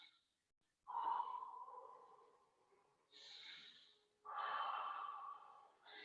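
During a yoga session, a person takes slow, deep breaths close to the mic: a long airy inhale, a pause, then audible exhales, with breathy rushes repeating at an unhurried pace.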